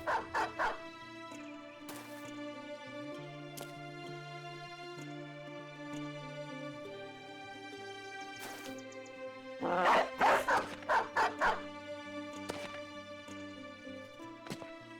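Dogs set loose on a fleeing enemy in the medieval combat game Battle Brothers: repeated yips and barks over a sustained musical score, with a dense flurry of barking in the middle.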